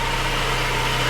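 Saab 9-3 Turbo engine idling steadily up close, a loud, even rumble with a constant low hum and no change in pitch over a short moment.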